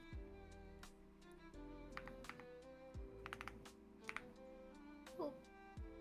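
Soft computer keyboard typing runs through the stretch in uneven bursts of clicks, quiet and close, over a steady tonal music bed.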